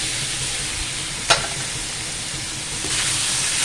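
Cut ridge gourd and potatoes frying in hot oil with blackened fenugreek seeds, a loud steady sizzle with a sharp clatter partway through and the hiss swelling again toward the end.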